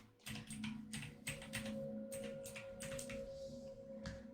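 Someone types on a computer keyboard that sits a little out of reach, producing a run of quick clicking keystrokes in uneven bursts over a faint steady hum.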